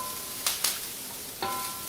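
Peas drop into a pan of sizzling shaved brussels sprouts and asparagus, with a steady frying hiss broken by a few sharp bursts of crackle as they are added and stirred.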